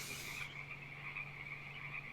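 A bullfrog gives a single sustained croak, faint and distant, a droning buzz that carries steadily over quiet ambience.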